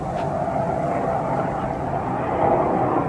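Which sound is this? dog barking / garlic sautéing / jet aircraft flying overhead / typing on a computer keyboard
jet aircraft flying overhead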